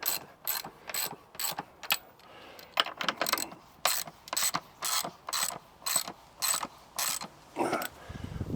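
Ratcheting clicks from chains being tightened on an anvil stand, a steady series of sharp metallic ticks in quick bursts, close and fairly quiet with no talking.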